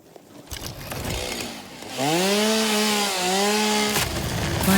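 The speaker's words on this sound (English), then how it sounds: "Chainsaw back." A chainsaw in the video game Satisfactory revs up and cuts with a loud, steady droning whine that rises in pitch and holds for a few seconds, heard alone.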